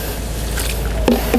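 Water is poured from close by onto the soil around a newly planted Jupiter grape plant, a soft wet squishing trickle with a couple of brief splashy gurgles near the end.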